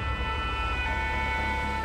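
A French forest firefighting tanker truck sounds its siren, a loud, steady two-tone wail held throughout over a low engine rumble, with no talking.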